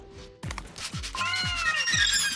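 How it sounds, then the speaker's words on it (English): A pet cat whines in a string of rising, drawn-out meows, close and fairly loud, repeating several times in quick succession. "Cat is whining now for some reason, as he does."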